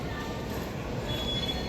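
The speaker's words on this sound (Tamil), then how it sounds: "மெட்ரோ ஸ்டேஷனுக்கு வந்துட்டோம்" Train at a Sydney metro station, a steady rumbling roar of rolling stock with faint high wheel squeal, continuous and fairly loud throughout.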